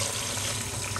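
Water runs steadily into a cooking pot over a light sauté of wheat for a bamia okra and tomato stew in a home kitchen, a continuous close pouring splash with no talk.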